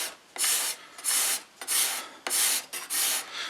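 A hand tool shaves wood for a chair in six quick rasping strokes with short pauses between them, close and dry, each stroke a bright scraping burst.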